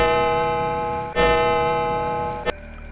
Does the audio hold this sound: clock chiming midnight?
yes